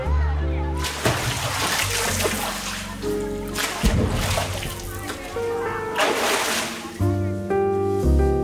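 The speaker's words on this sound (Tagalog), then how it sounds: "Parang walang kasawa-sawa si Mama sa pagtatampisaw sa tubig." Water splashing and sloshing in a warm swimming pool at midday with few guests, as an adult woman plays and slides; steady splashes near and loud, with voices and children's chatter mixed in and faint music-like tones throughout.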